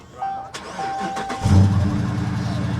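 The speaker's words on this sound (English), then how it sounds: "now that's an engine." Dodge Charger 5.7 Hemi V8 cranks briefly and fires up at a car show, catching with a loud deep burst that settles into a strong, rumbling idle, close by.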